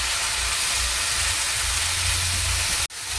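Fourteen kinds of leafy greens frying in a pan, a loud steady sizzling hiss close up that runs unbroken, with one brief dropout near the end.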